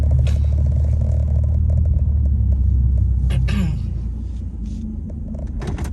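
A car's engine rumbles steadily inside the cabin while parking, with a brief scrape or shifting sound midway before the drone drops lower and quieter.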